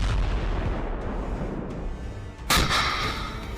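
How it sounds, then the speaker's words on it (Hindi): Anti-tank missile fire at the Israel-Lebanon border: a sustained rumbling roar of launch noise and distant blasts, then a sharp loud boom near the end, with no voices. "इजराइल लेबनान बॉर्डर पर दागी गई एंटी टैंक मिसाइलें देखिए"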